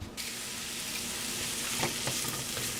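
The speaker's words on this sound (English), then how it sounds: "I'm going to put the mushrooms in, I'm going to saute them" Mushrooms sauté in hot oil in a pan, giving a soft, steady sizzle close by with a few light stirring clicks, and no voices.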